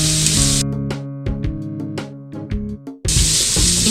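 Peas tipped into a hot pan on high flame hiss loudly in a bright, broad sizzle at the start and again at the end, with melodic background music filling the middle stretch.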